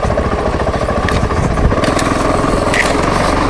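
Motorcycle engine running at a steady, loud drone during a ride down a steep slope, with a rumbling low throb continuous throughout, no voices.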